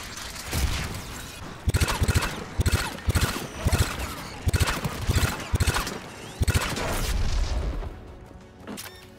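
Turret guns protecting a tower in the Mass Effect 3 video game fire in loud, heavy bursts, a string of booming volleys in quick clusters before the barrage trails off into a fainter rumble.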